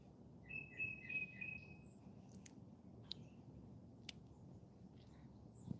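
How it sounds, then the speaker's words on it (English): Birds chirp outdoors, one clear whistled trill near the start and a few brief, distant chirps afterward over a low, steady background rumble. "I'm out here with the birds chirping"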